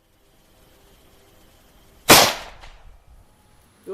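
A single sharp bullet impact into a jug, a loud, sudden crack with a short decaying tail in otherwise quiet surroundings, followed by a brief softer knock near the end.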